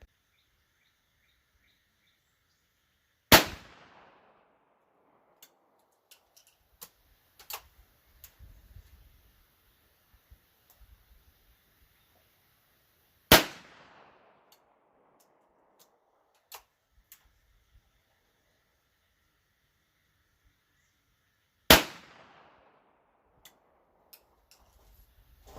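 Three sharp, loud .410 shotgun slug shots fired from YAF Servano rounds, spaced several seconds apart outdoors, each a sudden crack with a short decaying tail, with faint clicks and ticks between.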